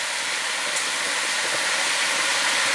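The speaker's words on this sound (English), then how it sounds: "I'm just going to let it steam like this for a little bit" Fresh Jamaican callaloo steaming in a covered pot on the stove, a steady, broad, loud hiss that continues without a break and has no voices over it.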